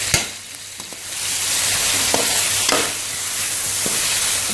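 Marinated chicken sizzles in oil in a kadai, a loud steady fry with intermittent clicks and scrapes of stirring, no voices.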